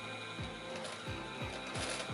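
A sewing machine sews a straight seam at half a centimetre, a steady rhythmic mechanical chatter of repeated stitch strokes, close and moderately loud, with no talking.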